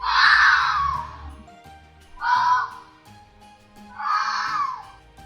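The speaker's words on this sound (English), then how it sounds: "Fox." A fox calling with three separate harsh, raspy screams, each a second or less, spaced about two seconds apart, loud and close with nothing else around them.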